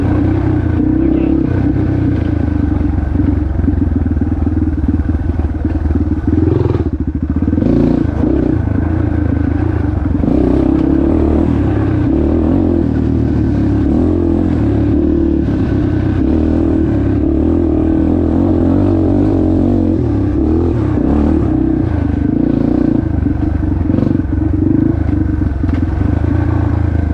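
A TTR 230 dirt bike racing on an old farm track roars steadily and loud throughout, its engine revving and surging with constant mechanical clatter close by.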